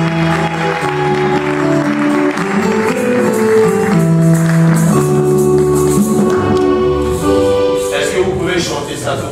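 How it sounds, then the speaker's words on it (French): Congregation at a church gathering in Kalamazoo cheering and applauding, a loud, sustained wash of clapping and voices layered over steady music throughout. "Est-ce qu'on peut acclamer mieux que ça?"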